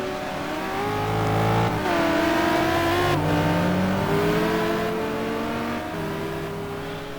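A Lamborghini GT2 race car engine wails on a flying lap at Zolder, revving high and dropping pitch with each gear change, loud and sustained without speech.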